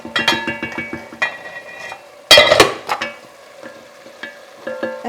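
A lid goes onto a cooking pot of kale stew frying on the stove, with several quick metallic clinks and rattles, one louder clang partway through, and a soft sizzle beneath, close and without talking.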